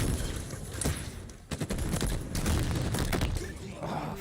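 Rocket launcher fire in Halo Infinite during a 2v2 tournament match, heavy blasts and booms mixed with rapid gunfire and explosions under a dense, loud game soundscape, with commentators talking over it.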